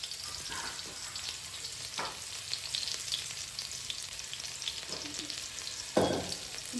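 Crushed garlic sizzles in hot mustard oil, a steady close-up crackling hiss broken by a few stirring scrapes, with no voices.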